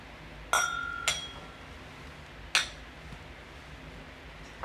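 Whiskey glasses clink together in a toast: two quick bright chinks close together, a third ringing clink a moment later, and a faint tap at the end, all in a quiet room.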